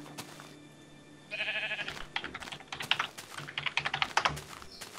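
Rapid typing on a computer keyboard during a Minecraft session, irregular clusters of key clicks growing busier after the first second, with faint game sounds in the background.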